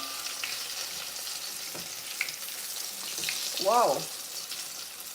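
Chicken fries in oil that is a little too hot on a stove, a steady, loud hiss and crackle that runs throughout with occasional scraping, and a brief exclamation from a voice partway through.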